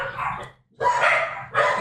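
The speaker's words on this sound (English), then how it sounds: "Hello, little dogs." Small dogs barking at a coffee shop in Coatepec, Mexico, three sharp, close barks with short gaps between them.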